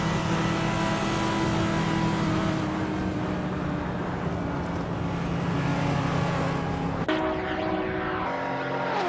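Racing cars roar past in a continuous high-pitched engine drone with shifting revs, one car's pitch changing sharply near the end, loud and steady with no talking.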